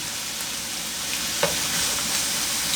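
Mushrooms fry in a pan for beef stroganoff, giving a steady close hiss and sizzle with a faint stir or clink partway through, and no voices.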